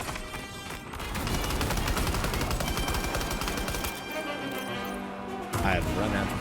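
Gunfire in the video game Death Stranding 2, with dense rapid bursts of shots roaring over continuous combat noise, close and loud, and a brief louder burst near the end.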